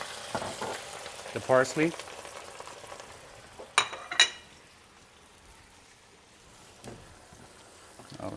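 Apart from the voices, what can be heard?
razor clams with white wine sizzling in a pan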